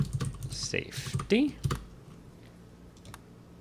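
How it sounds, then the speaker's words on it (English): Someone types on a computer keyboard in a quick burst of light, close clicks mixed with a spoken word. The room goes quieter afterward, with only a few scattered taps. "I'm typing around a can of soda here"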